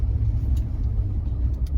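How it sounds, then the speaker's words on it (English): A pickup truck engine idles while warming up on a cold day, a steady low rumble close by with no talking. "hopefully the truck warms up here"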